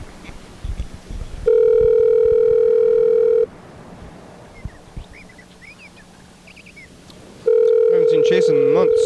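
Telephone during a call: a loud steady ring tone sounds for about two seconds, stops for several seconds of quiet line noise with faint chirps, then rings again, near and clear.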